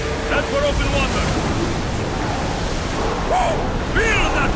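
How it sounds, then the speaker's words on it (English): Wind and ocean waves rush around a sailing ship at sea in Assassin's Creed Odyssey, a loud, steady broadband wash with shouted voices and crew calls breaking through on top. "Feel that wind!"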